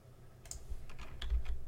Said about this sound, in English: Type here for the equation.